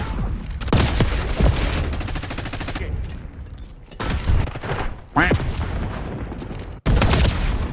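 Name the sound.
gunfire in a Treyarch shooter video game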